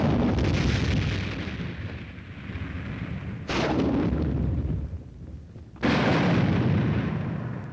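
A reinforced infantry company's combined weapons fire all at once in the Mad Minute demonstration at Fort Benning, Georgia: a continuous roaring barrage of gunfire and blasts, with fresh heavy bursts swelling in twice, loud and sustained throughout.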